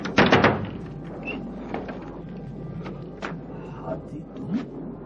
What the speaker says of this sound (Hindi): दरवाजा खोलो।